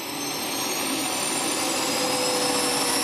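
A fighter jet's engine runs on the ground ahead of taxiing to the runway after a full overhaul, giving a steady, loud roar with a high whine that holds constant throughout, without speech.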